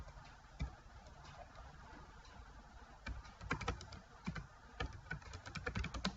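Keys clatter on a computer keyboard while text is entered into a Microsoft Word document, quiet and irregular at first, then quickening into denser bursts of clicks toward the end, with no talking.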